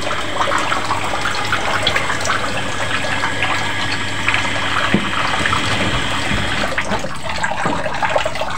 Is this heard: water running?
yes